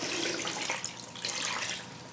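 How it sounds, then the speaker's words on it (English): Water pours steadily into an Instant Pot holding meat for bone broth, a close, continuous splashing rush that wavers slightly in strength. "I might have to add some water as well."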